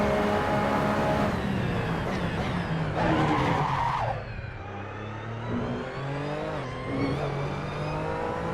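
A Porsche 911 RSR in Assetto Corsa screeches its tires as it loses traction under full throttle, the engine revving hard and rising before dropping into a lower, steadier roar with further brief squeals.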